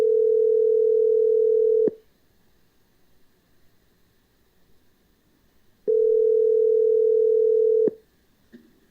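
Telephone ringback tone while calling a number, two steady two-second tones separated by about four seconds of quiet line hiss, clean and close.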